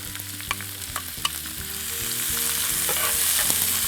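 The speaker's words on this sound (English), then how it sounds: "and I'm going to saute those in the oil" Chopped onions, green peppers and tomatoes sauté in olive oil in a skillet, a bright steady sizzle with soft stirring scrapes and light taps, close and alone, swelling slightly louder toward the end.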